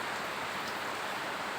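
Steady, dense hiss of rain falling, an even wash of noise with no breaks.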